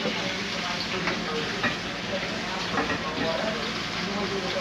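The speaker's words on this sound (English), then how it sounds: "I just brown my rice" Rice browning in a pot gives a steady, close sizzle and crackle of hot grains with faint stirring scrapes, continuous throughout, with muffled voices in the background.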